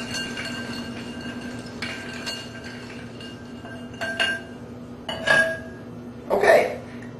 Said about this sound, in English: A little spoon here to stir this a little bit.